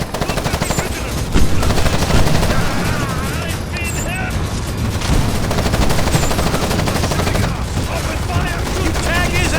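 Gunfire from the video game Ghost Recon Advanced Warfighter 2, a dense run of loud rapid shots and bursts over a busy battle mix, continuing steadily throughout with voices talking over it.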